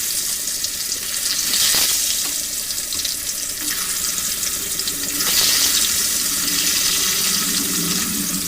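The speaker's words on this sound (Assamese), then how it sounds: "এতিয়া ফ্ৰাই কৰিম।" Broiler chicken pieces coated in turmeric and salt frying in a pan, a steady hissing sizzle that swells slightly at times, close and continuous with no voices.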